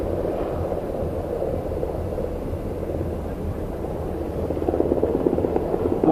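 A helicopter touching down during an air show display, heard as a steady, loud low rotor and engine rumble that swells slightly toward the end, with no talk.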